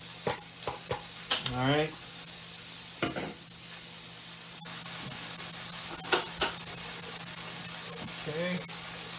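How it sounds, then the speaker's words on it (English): One medium onion sizzling steadily in a heated skillet, a constant close frying hiss with occasional stirring scrapes, while a person talks briefly over the cooking. "my skillet's nice and heated. I'm gonna let my onion turn brown."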